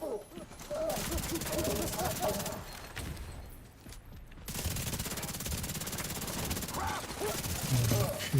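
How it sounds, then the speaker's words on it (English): Sustained bursts of automatic gunfire in a Fortnite-style shooter video game, dense and continuous with a brief lull in the middle, with game sounds mixed in. "I'm actually gonna shoot this guy a little bit on the shield"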